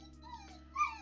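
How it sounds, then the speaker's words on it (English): A pet dog gives soft, high whimpers and a couple of brief yips, faint and fairly close, with a steady low hum running underneath. "I'm gonna have to let my dog out here shortly."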